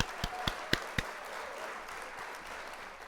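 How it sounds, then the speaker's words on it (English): An applause sound effect: a few sharp claps ring out near the start, followed by a soft, steady wash of crowd-like noise that fades low. "we got to hit the applause in there"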